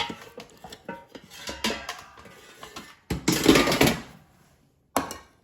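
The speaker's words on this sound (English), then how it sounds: "So now let's take it out of the air fryer" Frozen mac and cheese comes out of an air fryer with loud, close metallic clatters and scrapes as the basket slides out and a utensil knocks against it. A sharp click follows after a pause.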